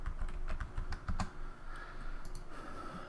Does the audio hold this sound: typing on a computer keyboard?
yes